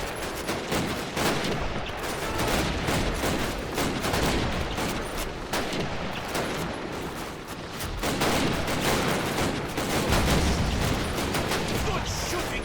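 Sustained rapid gunfire in the World War II shooter Call of Duty: United Offensive, dense overlapping shots and bursts continuing throughout at steady high loudness, with battlefield clatter filling the gaps.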